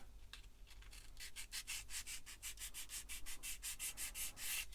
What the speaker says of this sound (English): I'll give them a little sand.